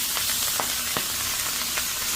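Two bunches of greens with garlic sizzle steadily in a hot pan, giving a continuous close frying hiss with faint crackles and pops and no talking.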